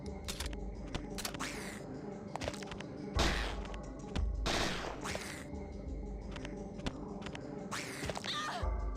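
Gunfire from the Parasite Eve 2 video game, a series of sharp shots spaced irregularly over a dense backdrop of game music and effects, with several louder bursts standing out.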